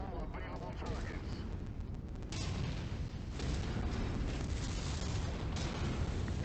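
Weapons and artillery fire in MechWarrior 5 rumble as dense, continuous booms and blasts, loud and close, with a chaotic heavy low end throughout.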